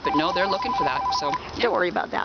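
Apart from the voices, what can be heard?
mobile phone ringing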